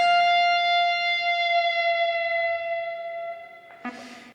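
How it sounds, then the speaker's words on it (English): Electric guitar holding a sustained note at the 13th fret, then dipped in pitch with the tremolo bar. The bright tone rings for several seconds, slides slightly lower near the end, and is cut off by a short noisy burst. "she uses the tremolo bar to make the note's pitch go down"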